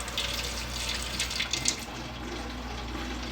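Steady rush of water draining out of a homemade urinal, a continuous hiss with slight splashing swells, held at an even moderate level throughout.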